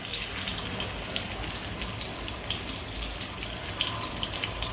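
Oil poured from the side into a pan of frying fish, a continuous close sizzling and crackling with a watery hiss throughout and no talk.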